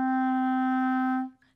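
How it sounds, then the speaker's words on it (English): A single sustained clarinet note, D, held steady for over a second with a clean reedy tone before stopping abruptly, played alone and close. "It's your note D. It sounds like this."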